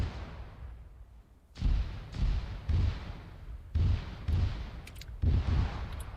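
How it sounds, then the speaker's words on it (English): Artillery rounds land in the Arma 3 video game as a series of about six heavy booming impacts, irregularly spaced roughly a second apart, each with a rumbling tail, loud and close, with no talk over them. "Still a few more rounds to come in."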